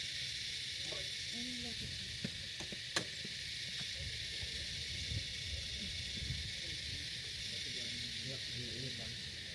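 Food sizzles steadily in a pan at Freemans Campground near the beach in Australia, a constant bright frying hiss with a few small clicks and soft, muffled voices underneath.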